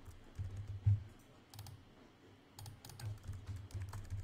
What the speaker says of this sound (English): Is typing data into files.